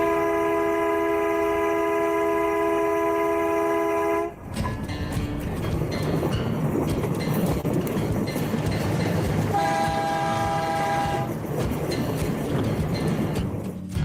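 A train on a railway line sounds a long sustained horn, then rolls past close by with heavy rumbling and rhythmic clatter of wheels, the horn briefly returning midway through the pass.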